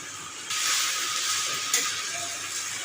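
Chow mein being stir-fried with fried soybean chunks and paneer, a steady close sizzle and hiss from the pan that swells louder partway through, with no talking.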